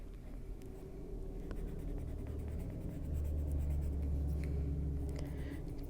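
A Chromaflow colored pencil scratching on paper in steady, close strokes, soft and continuous with faint rhythmic scraping.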